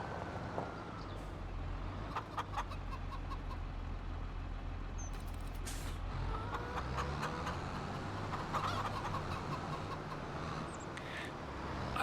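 Chickens cluck steadily inside a barn in Farming Simulator 25, a soft, busy chorus over a low engine-like hum, with occasional sharper clicks.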